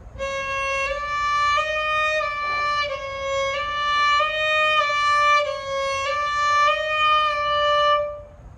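Bowed string instrument sustaining an E flat stopped with the left-hand pinky beside the third fingerboard tape, played as a steady repeated bowed note with slight wavering, close and alone for about eight seconds.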